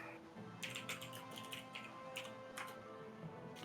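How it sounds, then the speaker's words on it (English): Fingers type on a computer keyboard in quick, irregular bursts of light clicks, fairly close, over a low background hum, with no voices. "I'm doing it by typing because it's a lot faster."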